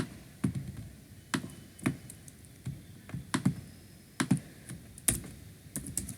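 Typing on a computer keyboard while building a Scratch snake game, with irregular, clearly separated clicks and occasional quick pairs, close and fairly loud against a quiet hiss.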